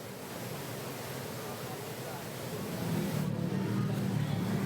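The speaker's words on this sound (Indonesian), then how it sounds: "Luapan Sungai Cipunagara di Subang, Jawa Barat semakin deras." Floodwater from the overflowing Cipunagara River in Subang, West Java, rushes in a steady broad roar that swells slightly louder near the end.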